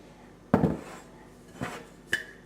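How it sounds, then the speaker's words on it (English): A slow cooker's lid and removable ceramic dish clatter as they are handled, one sharp knock followed by two lighter clinks, near and alone. "They just have a lid and they have a removable dish."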